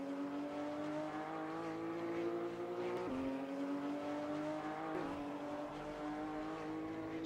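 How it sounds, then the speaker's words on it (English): A V6 car engine in Garry's Mod drones at a steady high pitch, dipping twice as gears shift and climbing again, loud and continuous with no talking. "It generally does sound like a V6"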